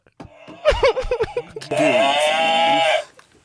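A person's voice imitates a cow, a few choppy vocal sounds leading into a long, loud, drawn-out bleating moo that holds for over a second before cutting off.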